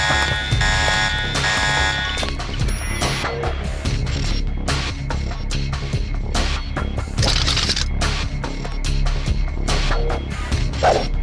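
Alarm in the video game Deus Ex Nameless Mod, a loud, steady electronic ringing that carries over thumps and scuffling game sounds, with no voices.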